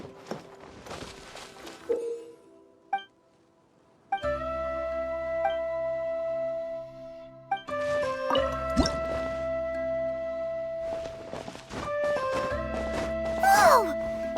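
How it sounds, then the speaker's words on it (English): In the Genshin Impact video game, water droplets drip from a wall. Scattered wet plops and squishy drips sound close and fairly soft over a layered ambient game soundtrack with sustained tones. "another water droplet just came out from the wall"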